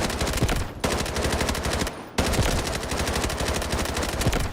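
Rapid automatic gunfire on the firing range in the video game Delta Force, dense bursts of loud, close shots rattling almost continuously with one brief pause midway.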